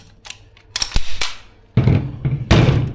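A Tokyo Marui AK gas blowback airsoft rifle fires in close quarters: sharp snapping shots in a short burst, then two loud, rattling bursts with clattering mechanical action, close and dominant.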